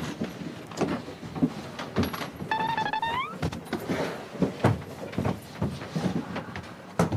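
An elevator's sliding door in Brazil, with a brief rising motor whine and soft clunks over a steady, low background hum, with no talking.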